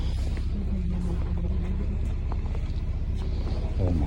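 A car stuck in deep snow during a snowstorm, its engine rumbling steadily and straining as the vehicle barely moves, with a low continuous drone close by and faint background voices.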